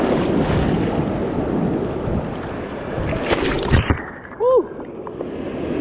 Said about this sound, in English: That was full frontal wave right there.